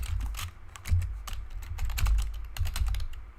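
Computer keyboard keys clatter in quick irregular bursts, close and crisp, with short pauses between runs of typing.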